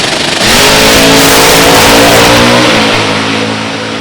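Drag racing cars at Beech Bend launching down the strip, a very loud, close engine roar that builds sharply with rising harmonics and holds strong before easing slightly at the end.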